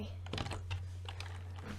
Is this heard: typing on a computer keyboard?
yes